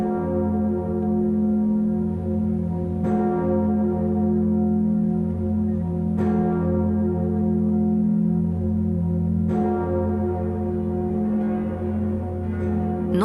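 The great bell of Notre-Dame cathedral in Paris, tuned to F sharp, tolls loudly and richly, with four slow strikes roughly three seconds apart over a sustained, humming resonance.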